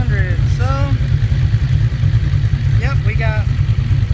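A red drag car's engine runs steadily at 3,500 rpm with a loud, dense low rumble throughout, while people talk over it.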